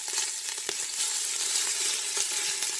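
Ground beef sizzles in a pot of hot oil over medium-high heat as spaghetti meat sauce begins, a steady close, bright hiss with faint crackles and a couple of soft stirring knocks.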